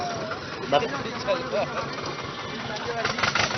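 A tractor engine idles and rumbles nearby at a roadside gathering in Morena, its uneven chugging mostly masked by several people talking over it.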